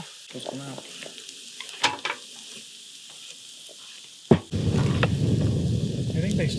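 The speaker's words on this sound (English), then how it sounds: "So now I'm gonna start the chorizo." Chorizo frying in a pan during an outdoor mountain breakfast cook, a steady loud sizzle that starts suddenly after a sharp clunk and then runs on evenly, with brief speech and wind noise before it.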